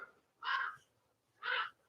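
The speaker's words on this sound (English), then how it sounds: "Sounds like a crow." A crow gives two harsh caws about a second apart, clear and moderately near against a quiet background.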